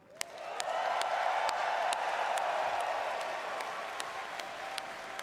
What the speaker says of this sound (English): Ils m'applaudissent à moi.